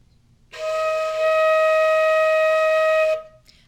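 A single sustained flute note, E flat, held steadily for about two and a half seconds, clear and close with a soft breathy onset and clean release.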